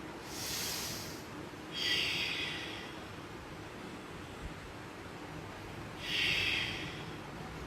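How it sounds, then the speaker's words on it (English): Ujjayi breathing through the throat during a yoga flow: two slow, hissing breaths close to the mic, the first long and soft, the second stronger, then a quiet pause before another audible breath. "Ujjayi breath."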